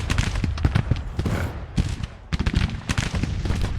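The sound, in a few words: artillery fire from bronze cannons in the video game Grand Tactician: The Civil War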